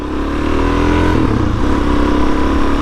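A Suzuki DRZ-400S motorcycle's engine runs loud and close, a steady throaty drone that dips briefly midway before holding strong again.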